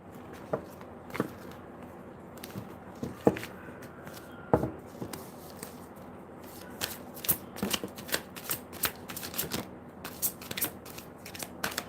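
Tarot cards shuffled by hand at close range, a run of crisp riffling snaps and soft slides in irregular bursts, growing busier toward the end, with no talking.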